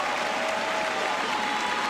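Crowd at a George Washington basketball game applauds a departing senior on senior night, steady sustained clapping and cheering filling the arena without a break.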